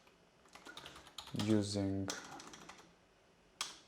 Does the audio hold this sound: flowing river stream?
no